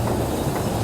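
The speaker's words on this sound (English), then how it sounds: "the elevated train." A Chicago L elevated train going by, a loud, steady roar and rumble of cars with a hissing wash, heard close for under a second.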